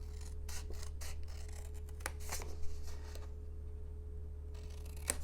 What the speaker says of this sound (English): I'm going to cut these 2 squares off